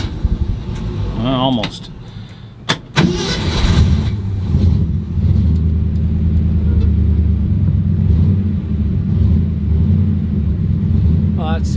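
Small engine with a manual choke, pumped before starting, cranks over with clutch in and neutral, then catches and settles into a loud, steady, low rumbling idle that runs on continuously, with a brief voice near the start.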